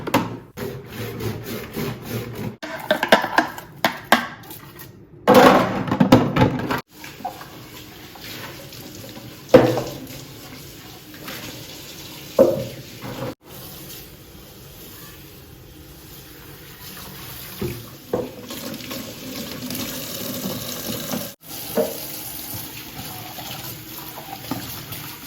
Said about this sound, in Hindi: तो हल्का हल्का मैं यहाँ पे वॉश कर ले रही हूँ इसे।